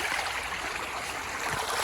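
Water in a government irrigation canal rushing at full flow, a steady, loud, broadband hiss and churn heard close by, with no voices.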